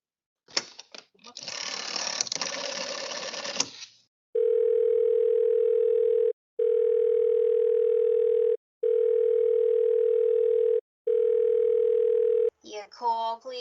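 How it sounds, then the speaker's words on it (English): An old telephone line gives a busy signal after a burst of rasping noise: four steady, loud tones of equal length separated by short gaps, followed by a brief voice. "the line is always busy"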